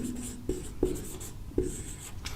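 Chalk or marker strokes on a board during a chemistry lesson, a few short scratchy taps and squeaks spaced irregularly, quiet and close, with no speech.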